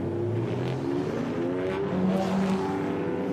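A pack of DTM Trophy race cars pulls out onto the Hockenheimring circuit during free practice, with a steady, dense engine drone and overlapping revs as several cars move together at middle distance.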